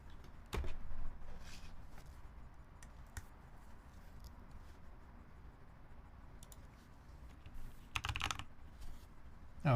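Scattered keystrokes on a custom mechanical computer keyboard, being tried out right after plugging it in, sound as sparse clicks with a brief flurry of faster typing near the end, close by with no talking.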